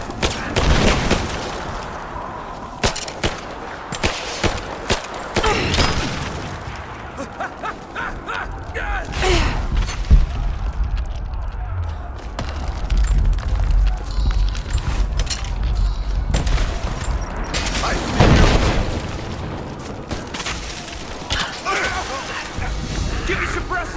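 Heavy gunfire erupts in Rise of the Tomb Raider, dense bursts and crashing shots coming near and loud, mixed with shouted voices and combat noise throughout.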